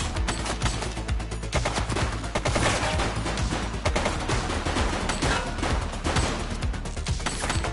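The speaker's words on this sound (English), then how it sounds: "Shots fired!" Dense, rapid gunfire rings out in a police video game, a continuous barrage of overlapping shots from several weapons that stays loud and close throughout with no pause.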